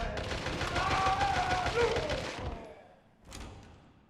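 A turret trap fires in Resident Evil 7, a dense rapid burst of gunfire that holds loud for about two seconds, then fades, followed by a single later thump.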